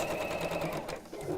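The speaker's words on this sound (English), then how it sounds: "So we're just going to carry on sewing until we've covered the whole area." Sewing machine stitching thick fabric for an Easter basket, a fast steady whirring run with a brief dip near the end, close and clear under a faint background voice.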